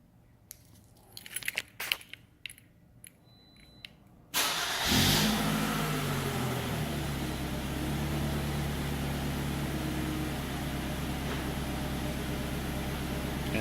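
A Toyota RAV4 engine starts by remote starter: a few faint clicks and taps, then a sudden loud crank that catches into a steady, close, droning idle which holds unchanged to the end.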